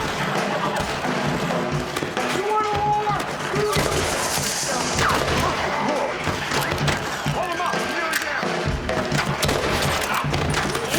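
Red Dead Redemption gameplay gunfight with repeated gunshots and impacts scattered through a busy game soundscape. Voices are present throughout.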